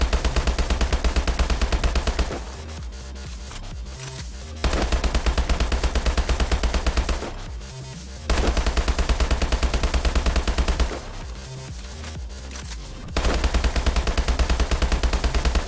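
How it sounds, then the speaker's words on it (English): HBRa3 Insanity rifle from Call of Duty Advanced Warfare firing in sustained full-auto bursts: loud, dense, rapid gunfire pouring out in four long strings as magazines empty, with short pauses between bursts. "I also shoot that, so you kind of just listen, kind of watch the guns empty their clips"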